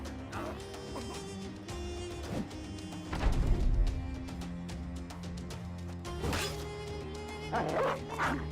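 Big dog in the Battle Brothers video game taking hits, yelping and whimpering amid clashing combat impacts and a steady layered game soundtrack, game sounds dense and continuous.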